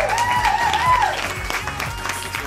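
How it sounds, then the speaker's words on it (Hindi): An audience at a Pakistan Day family festival claps in a steady patter of applause, with a tonal whistle or music line sliding over the start. "जोरदार ताली होनी चाहिए"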